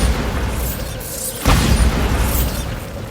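Bombardo spell explosion in Hogwarts Legacy: a sudden booming burst hits midway, loud and broad, over a continuous rumbling game soundscape.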